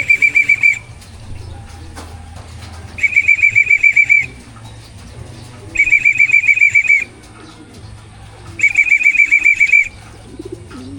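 Racing pigeons return to their home loft after a training toss from Cabanatuan, with four loud bursts of wing flapping, each about a second long and close by, separated by quieter stretches of soft cooing and chirps.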